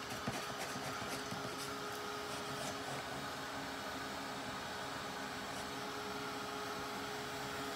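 Heat tool blowing steadily to heat-set Distress ink on a card, a continuous airy whoosh with a faint motor hum, constant and close throughout, no voices.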